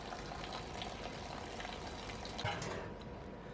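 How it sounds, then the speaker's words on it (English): Water gushing and gurgling as it is emptied out of the fuel tank of an 86-year-old BSA Empire Star motorcycle during chrome restoration, a steady close splashing pour with a brief louder surge. "Then it's just a case of emptying the water out the tank"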